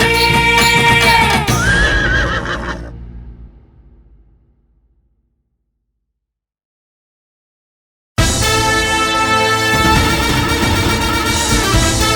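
A horse whinnies over a Tamil devotional song for Kadanganeri Karuppasamy. The loud music fades into several seconds of silence, then returns at full volume.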